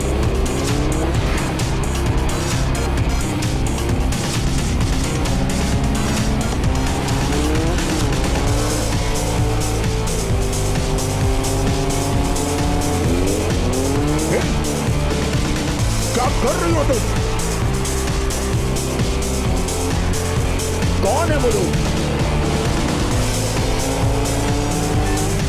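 A car is driven fast with its engine revving and shifting pitch, and its tires squeal repeatedly as it skids through turns, loud and close, with voices talking over it.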